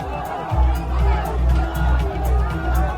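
A crowd gathered with flags, banners and posters outside a TMC office in Falta, Bengal, after election results, heard as a dense murmur of many voices with a reporter talking over the babble.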